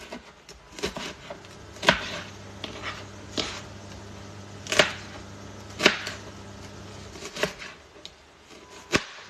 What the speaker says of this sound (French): je viens découper mes peaux de citron